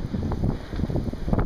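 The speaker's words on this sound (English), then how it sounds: "A little more wind out this way." Wind blowing outdoors during the 2011 blizzard, a gusty low roar buffeting the microphone in uneven surges, close and continuous with no voices.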